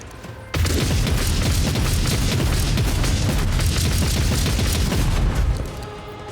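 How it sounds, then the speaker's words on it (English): Rapid gunfire from the video game Rogue Trader erupts into a dense, continuous barrage of booming shots lasting about five seconds, loud and close, then cuts off abruptly. "I'm gonna rapid fire down there."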